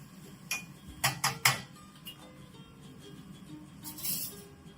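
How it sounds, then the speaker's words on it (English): Utensil scraping and clinking in a pan while seasonings and black pepper are stirred into a quick game-day dish, a few sharp close taps in a cluster followed by a softer scrape, no talking. "Stir in those seasonings."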